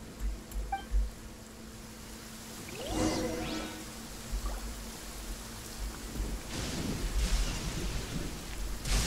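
Thunderstorm in the game Genshin Impact: a rolling thunder rumble builds around the middle, under steady rain hiss, with a second swell of storm noise near the end.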